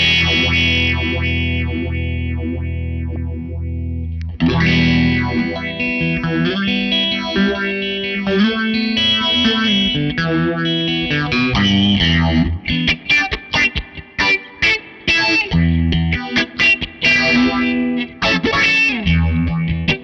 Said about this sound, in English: Let's add some feedback, and this is going to make it sound a lot more swishy